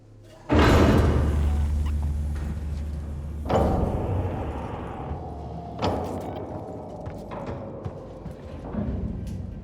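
Heavy doors in Alien: Isolation slam shut with a loud, booming metallic impact that rings out, followed by two fainter mechanical clunks a few seconds apart. No one speaks.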